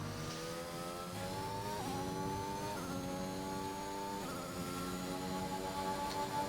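Race cars in a realistic-tier racing game at the Emilia Romagna Grand Prix, several engines droning and revving steadily with rising and falling pitch as they pass, fairly faint, with no talk.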